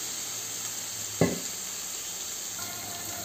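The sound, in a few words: ridge gourd pieces frying in oil in a pan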